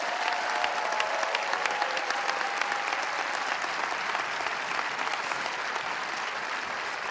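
A large crowd applauds steadily for tennis champion Alexandra Eala at the Lexus Birmingham Open final. The clapping is dense and sustained, with a faint voice under it.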